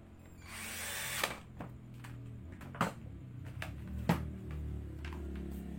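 A power drill drives bolts into the body of a Philips 2115 blender during reassembly, giving short whirring bursts separated by pauses over a steady low hum, close up.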